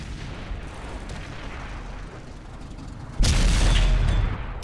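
Tank gun fire in World of Tanks on Xbox One, a quiet rumbling backdrop broken by a sudden loud boom that holds as a heavy blast and rumble before easing.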